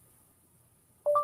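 Mobile phone beeping: a quiet low hum, then a single short electronic two-tone beep near the end, clear and alone.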